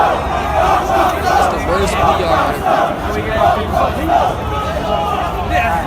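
A concert crowd riots in a loud, dense roar of yelling and chanting voices that surges and falls steadily throughout, with a voice speaking over the din.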